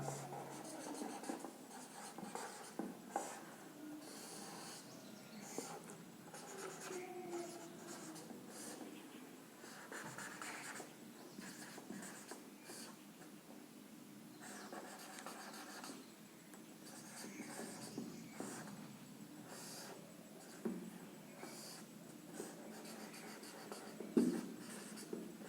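A pen scratching and scribbling on paper as a circuit diagram is drawn, a faint continuous run of rubbing strokes and short squeaks.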